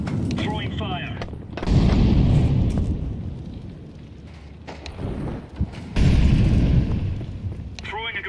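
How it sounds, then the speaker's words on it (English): In Counter-Strike 2, an incendiary grenade goes off amid gunfire: loud bursts of fire and booming impacts come in two heavy surges, with sharper shots and clatter between them. "Throwing a grenade. Incendiary."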